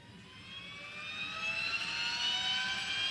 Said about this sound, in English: There's our APU.